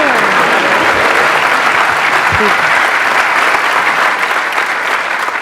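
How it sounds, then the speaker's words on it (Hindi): Steady, dense applause from a live audience at a motivational talk, loud and continuous throughout with no voices standing out. "मेरा दिल रखने के लिए तालियां बजा रहे हो?"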